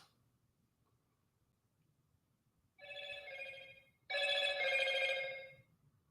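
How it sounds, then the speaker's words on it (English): Two ringing bursts from a phone notification, the first about a second long, the second longer and louder, both clear and close against a quiet background. "Wait till you get the notification."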